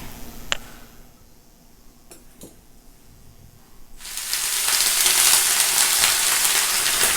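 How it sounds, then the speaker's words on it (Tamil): Spices tempered with asafoetida in hot oil, with mustard seeds, urad dal, curry leaves and dried red chillies, give a loud, steady hiss that bursts in and fills the second half after a few faint clicks. "பெருங்காயம் தாளிச்சு போடணும்"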